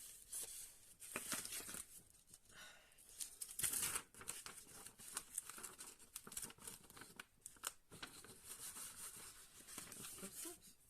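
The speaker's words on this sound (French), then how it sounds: "On va marquer le pli." Thin paper being cut and creased by hand while assembling a classy album structure, giving dry crisp rustles, sharp scrapes and tearing-like swipes in quick irregular bursts, close and moderately quiet, with a few faint words spoken.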